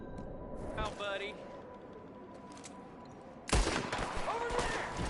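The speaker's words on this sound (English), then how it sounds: "There's another one shooting from the window." A Red Dead Redemption 2 firefight with a quiet stretch of distant shots and shouting voices, then a sudden loud burst of close gunfire and continued shots under yelling.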